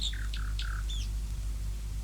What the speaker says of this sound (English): perched on the topmost branch of that tree sat a nightingale